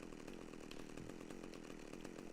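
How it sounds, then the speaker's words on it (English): A chainsaw in the video game GTA Vice City buzzes and rasps continuously in a gritty, rough drone with no break or talking, heard faintly at low volume. "Oh, it's a chainsaw."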